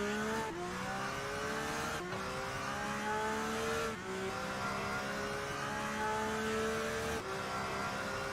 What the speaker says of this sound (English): Great sounding engine too.